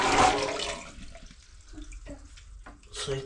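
Water poured into an outdoor toilet: a loud splashing gush at the start fades into trickles and drips, with another splash near the end.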